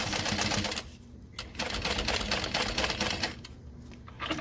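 A sewing machine with a zipper foot runs a long stitch length in steady rapid bursts, loud and close, pausing briefly once and then stitching on again.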